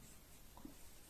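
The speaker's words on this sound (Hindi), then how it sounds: "यहाँ पे लिखेंगे शून्यांकों" Pen or chalk scratches briefly across a writing surface during a Class 10 maths lesson on polynomials, a soft, close, continuous scrape with no one speaking over it.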